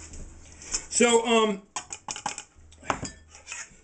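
Metal pie tins clatter and scrape while being handled in a kitchen, a run of close rattling clanks mixed with speech.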